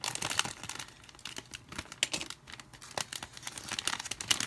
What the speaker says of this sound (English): Do not cut toward yourself when you are opening a package.